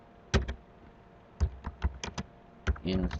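A computer keyboard clicks in short bursts of typing as commands are entered on a Debian server, with single taps and quick runs of keystrokes, close and fairly quiet.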